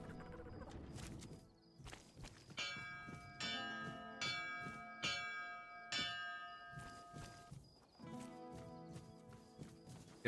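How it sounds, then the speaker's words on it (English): A morning bell in the video game Tainted Grail: Fall of Avalon, repeated rhythmic clangs with ringing overtones, moderately loud, over soft hoof-like clopping and ambient sound. "Yeah, I guess that's just the morning bell"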